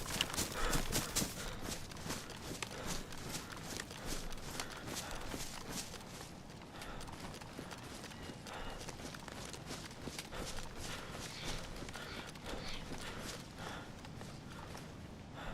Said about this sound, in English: Thought I heard footsteps.